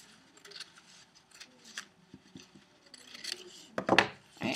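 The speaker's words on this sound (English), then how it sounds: "I'm going to go ahead and make a cut down the middle on that crease" Scissors snip down the middle of a creased sheet of paper, a series of short crisp cuts and rasps with a louder, rougher slice near the end, close up and without talk.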